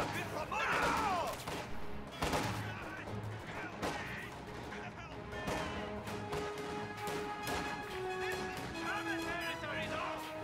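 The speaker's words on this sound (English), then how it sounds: "Those riflemen are shooting at wire" Rifle gunfire in a real-time strategy war game match, repeated sharp shots and bursts with distant explosions scattered through a dense battle soundscape, under a voice speaking.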